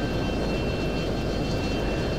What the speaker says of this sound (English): we'll put our engines on and go full power